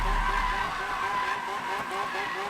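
A Lamborghini Aventador drifts in the Need for Speed 2015 video game, its tires skidding in a loud, steady squeal over the sustained engine roar.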